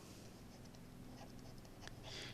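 Writing on a board during a geometry proof lesson, a steady soft scratching and tapping under room hiss, with a brighter squeak near the end and no talking.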